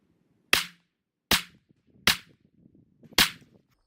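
Glock 48 or Glock 43X pistol firing at a target on a range: four sharp, loud shots spaced irregularly about a second apart, each with a brief decaying tail.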